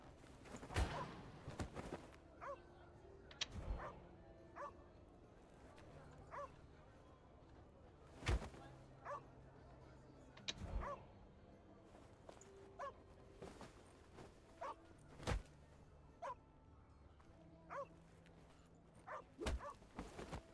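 A dog in the game The Inquisitor gives scattered sharp barks, yips and soft whimpers among footstep-like thumps, fairly close and irregular, with faint talk at times.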